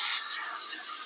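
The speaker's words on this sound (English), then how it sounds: "you're just giving it a good flush to get all the starches out" Tap water gushes into a pot to rinse brown rice, a close, loud hissing spray that eases slightly partway through, with no voices.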